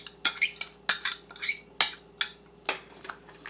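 Spoon scraping and clinking against a pot while lentils are stirred into beef bacon soup, a run of sharp, close metallic taps at an uneven rhythm with no talking.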